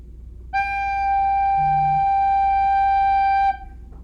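One sustained recorder note G, slightly lower and soft-edged, held evenly for about three seconds with a faint low hum briefly underneath.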